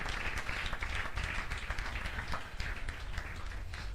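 Church congregation at an Easter Sunday service applauding to acclaim the Lord, a steady wash of clapping from many hands that continues for the whole stretch.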